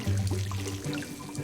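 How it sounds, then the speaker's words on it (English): Water pouring onto plants in the video game Desperate Housewives: The Game, a short steady trickling stream with a low hum underneath. "We'll water them a bit"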